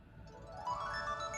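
Short bright chime from a Nintendo 3DS as the home button opens the home menu, a rising cluster of tones over a soft steady background hum, clear and close.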